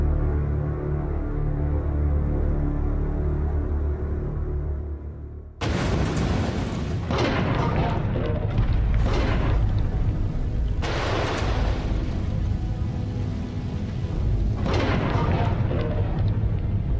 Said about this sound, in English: With the preparation complete, Wyatt retreated to a safe distance to watch the explosion on a monitor